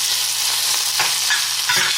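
Onions and sauce sizzle steadily in a pan over medium-low heat, with soft stirring scrapes now and then over a constant close frying hiss.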